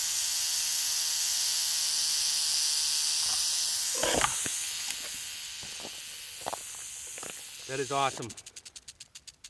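A Mohave rattlesnake hisses steadily and then rattles in a rapid buzzing burst near the end, with a person speaking briefly in between.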